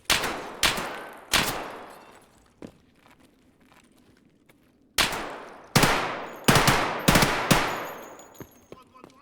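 Automatic gunfire from the video game Escape from Tarkov comes in loud, sharp bursts close by: a few shots early on, a quiet stretch, then a quick string of rapid shots near the end.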